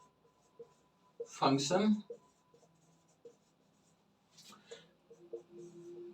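Chalk or pen scratches across a board during a maths lesson in two short bursts of strokes, close and crisp, with someone speaking between them.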